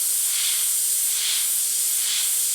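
Airbrush spraying paint, a steady high, airy hiss with gentle pulsing, close and continuous with no talk.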